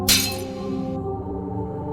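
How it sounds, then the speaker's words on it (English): A glass picture frame holding a certificate falls from a desk and shatters with one sharp crash, followed by a sustained ringing tonal tail. "The glass frame was shattered, pieces scattered across the floor."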